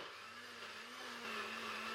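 A Nutribullet blender whirs steadily while mixing a smoothie, a continuous high-pitched motor whine with a bright buzzing tone that rises slightly in pitch partway through, with no one talking.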